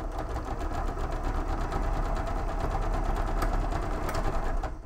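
A sewing machine runs steadily while stitching a plushie, a continuous close whirring hum with a fast mechanical rattle throughout.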